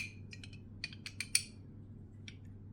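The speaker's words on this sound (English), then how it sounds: "try to screw this thing on the bottom, it does eventually stop, but it's not tight" A lightsaber's bottom part spins against its threads without tightening, giving a series of small clicking, ratcheting taps up close and quiet.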